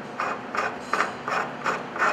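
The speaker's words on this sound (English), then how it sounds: "You simply align the threaded rod with the threads in the bottom of the beam clamp and then screw" A threaded rod is screwed into the bottom of a steel C-style beam clamp, giving a close, quiet run of about six evenly spaced metallic ratcheting scrapes.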